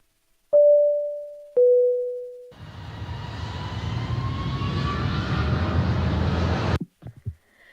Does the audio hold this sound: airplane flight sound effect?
yes